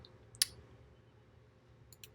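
A single sharp mouse click rings out close and alone over a quiet background hum, followed near the end by a couple of faint, quick clicks.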